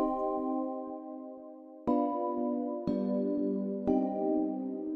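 A synthesized B note plays in Cakewalk by BandLab, sounding as a sustained tone that is struck again three more times at roughly one-second intervals, clean and alone with no talking.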